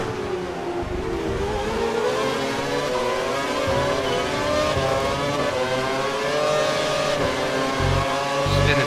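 An F1 car engine in a Silverstone racing video game holds a steady high-pitched whine with slight pitch shifts, loud and continuous throughout with no pauses.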